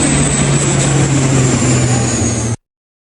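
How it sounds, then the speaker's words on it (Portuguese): Helicopters from the Indigenous Health Secretariat and the Air Force ferry Yanomami people to Boa Vista, producing a loud, steady rotor and engine drone that runs unbroken and then stops abruptly. "Helicópteros da Secretaria de Saúde Indígena e da Força Aérea fazem um transporte dos Yanomami para Boa Vista."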